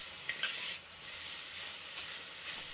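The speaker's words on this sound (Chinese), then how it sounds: "迅速将鸡翅放入锅中，快速翻炒，让鸡翅均匀地裹上糖色" Chicken wings stir-fried in a wok coated with caramelized sugar give a steady, close hiss and sizzle with a few brief scraping stirs along the way.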